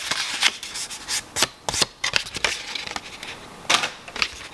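A paper soap wrapper for goat milk soap is creased and folded against a book spine, giving quick bursts of crisp crinkling and sharp rustling swipes between brief pauses, close and alone.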